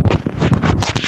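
Truck air conditioning blowing inside the cab, a steady loud whooshing rush of air buffeting close to the microphone with uneven gusty surges.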